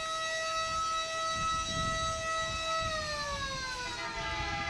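A fire engine, Wakefield engine number 1, sounding its wailing siren in a 4th of July parade, a loud, steady tone that winds down in pitch toward the end, with low crowd and street rumble beneath.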